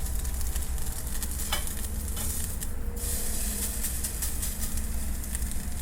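Miyazaki A5 wagyu strip sizzling on a binchotan charcoal grill, a steady close frying hiss with occasional sharper spits and pops, no talking.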